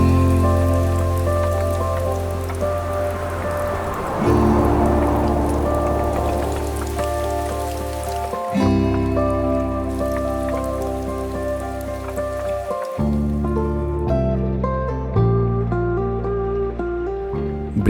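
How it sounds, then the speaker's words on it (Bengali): Rain falling in the mountains on the Sandakphu trek, pattering steadily on surfaces with a dense drip texture, heard under a tonal background hum that shifts in blocks. "তার মধ্যে আবার এরকম বৃষ্টি হচ্ছে"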